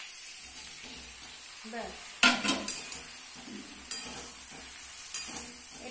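Eggplant and flat beans fry with onion in a pan, a soft steady sizzle with sharp clinks and scrapes of a utensil against the pan, and a brief spoken word.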